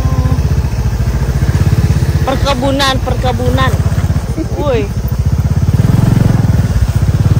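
A motorcycle engine hums steadily while riding along a plantation trail past coconut and banana trees, with voices talking over it throughout.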